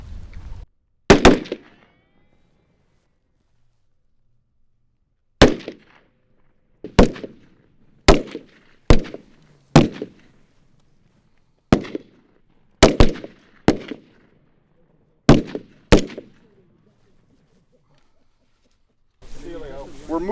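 Rifle shots fired on a training range during a rifle and pistol class, a string of about a dozen sharp, loud cracks in uneven clusters with brief echo tails and quiet gaps between them.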